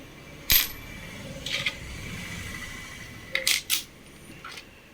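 A commemorative coin for the 150th anniversary of the Colombo Medical Faculty, handled and dropped, giving a sharp metallic clink followed by a lighter tap and then a quick pair of close, ringing clinks.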